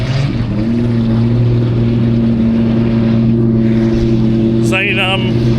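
A New Zealand stockcar, the 91B, races around the Woodford Glen track, a loud steady engine drone holding a constant pitch throughout, with a brief higher whine near the end and voices in the background.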